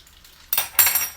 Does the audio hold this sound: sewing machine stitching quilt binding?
no